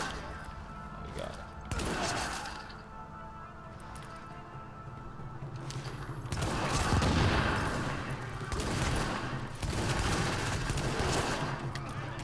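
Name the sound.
gunshots from M44 bolt-action rifle in video game The Division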